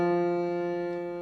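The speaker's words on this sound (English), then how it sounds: "This is the sound of F." A single sustained keyboard note F holds steady for just over a second, its tone rich in even harmonics and slowly fading, played alone with no other sound.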